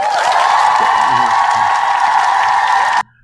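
A stock crowd cheer and applause effect: a dense, loud wash of clapping and whooping that holds steady for about three seconds, then cuts off abruptly to silence.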